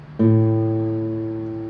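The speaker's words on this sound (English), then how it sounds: "you have the one below it, which is the A string," A single low guitar A string is plucked once, ringing clearly and slowly fading without any talking.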